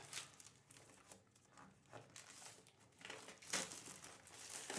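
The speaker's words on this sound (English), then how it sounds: "time for us to crack open these packs" Foil booster pack wrappers for Strixhaven and Throne of Eldraine trading cards crinkle and tear open in a close series of sharp crackling rips, fairly quiet and with no talking.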